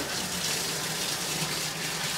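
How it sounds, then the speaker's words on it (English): Water gushes steadily from a tap into a sink, running through a part of a Brew-Boss automated electric brewing system being cleaned, a continuous close hiss with no pauses. "make sure you run water through it."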